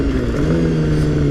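Honda CBR250RR motorcycle engine running steadily at a sustained, rather loud drone, with a constant low hum and no clear rise or fall in pitch.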